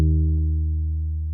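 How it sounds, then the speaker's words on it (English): A deep Rickenbacker bass sample from Contact holds a repeated D sharp, a steady, loud, sustained low tone with strong harmonics that fades only slightly and plays alone. "this is the Rickenbacker bass from Contact."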